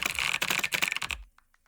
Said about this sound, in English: The typing sound effects.